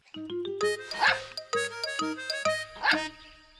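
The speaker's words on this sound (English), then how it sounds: "Snuffy jumped up again and barked with joy." A small dog yips and barks excitedly in quick bursts, close by and loud, with short pauses between the yaps.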